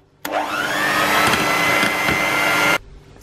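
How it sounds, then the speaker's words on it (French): Electric hand mixer whips cold ganache in a bowl, a loud steady motor whine that starts abruptly, rises slightly in pitch as it settles, then cuts off sharply after about two and a half seconds. "Je sors ma ganache du réfrigérateur et je la monte au batteur bien froid."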